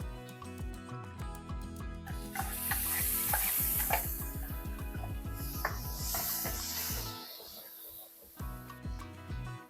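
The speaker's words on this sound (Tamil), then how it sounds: "இந்த விழுதையும் இதிலே ஊற்றிடலாம்" Ground spice paste hits hot oil in a pan with a loud, crackling sizzle, followed by stirring scrapes and a fading hiss, close up while a voice speaks at moments.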